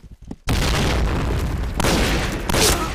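A grenade explodes in the shooter game Point Blank: one loud, sudden blast after a brief quiet moment, followed by a long rumbling roar with further bursts layered in.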